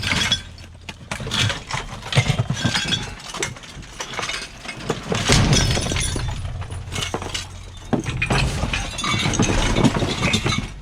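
Glass repeatedly shatters and clinks inside a dumpster among wood and other debris, loud crunching bursts and tinkling shards in close, uneven waves.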